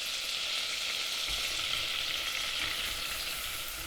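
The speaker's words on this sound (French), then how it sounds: "Nous ajoutons donc la farine au beurre pour réaliser notre roux" Butter and flour roux frying in a pan, a steady, dense hiss of sizzling that holds evenly loud throughout, with no voices over it.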